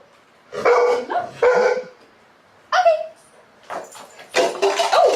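Several puppies bark in short yapping bursts with pauses between, fairly close and loud, during a dog cognition training session.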